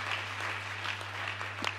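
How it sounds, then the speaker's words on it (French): A crowd at a gospel festival in Lubumbashi cheers and claps in a brief, dense burst of applause with scattered shouts, under a steady low hum. "Est-ce qu'on peut acclamer très fort?"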